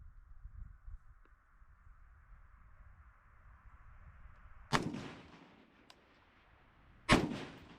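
Rifle fire from an AR-15 M16A4 clone using 55 grain bulk ammunition: two loud, sharp shots several seconds apart, each with a ringing decay, over a quiet outdoor background with no speech.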